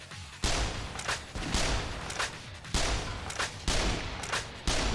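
Loud gunfire bursts from a sniper rifle in the video game Yakuza Dead Souls, repeating roughly every second in sharp, booming blasts that leave little room between shots.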